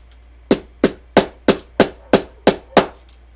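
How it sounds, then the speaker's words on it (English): A hammer flattens a thick piece with eight sharp, evenly spaced strikes, each a loud close knock with a short ring, no talking. "I'm gonna have to hammer it"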